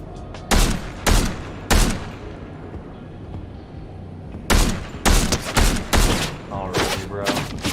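Gunfire in Fortnite: loud, close bursts of shots in two clusters, a few spaced blasts early, then a denser run of rapid shots after a lull, with a steady background hum between.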